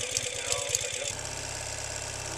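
A Ural cT Gen2 motorcycle engine with a Keihin EFI upgrade runs steadily close by after starting, first with a choppy, uneven beat and then settling into a smooth, continuous idle.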